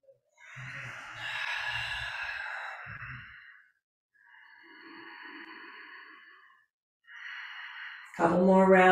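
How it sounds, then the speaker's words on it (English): Slow, audible breaths during a morning yoga practice, three long airy exhales separated by pauses, soft and close, with a faint low voice under the first and a louder voice at the end. "Breathing."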